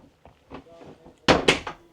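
Door of a 2025 Hymer B Class Masterline I880 motorhome swinging shut onto its magnetic strip, two sharp close thuds after softer handling clicks and a faint voice.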